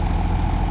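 A forage chopper's diesel engine runs steadily nearby on a farm, a deep continuous rumble with an even low hum and no voices.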